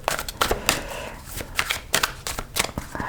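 Tarot cards handled on a table: irregular snaps, flicks and slaps of the cards at close range, coming in quick uneven bursts.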